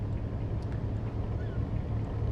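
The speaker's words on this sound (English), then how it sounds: "So when we're ready now, I think we'll accelerate both engines." Both engines of a ship in a ship simulator game rumble low and steady, with a continuous churning wash over the whole stretch and no clear change in pitch.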